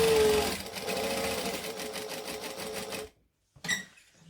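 A sewing machine runs steadily, stitching an accent panel and backstitching, a close, loud whirring for about three seconds, then cuts out before a short second burst.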